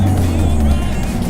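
A Mazdaspeed3 engine pulls hard under acceleration, a loud, close, low growling drone held steadily through the brief burst.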